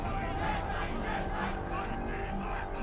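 Thousands of people gather in the streets chanting slogans, a dense, continuous roar of many voices with no break across the short stretch.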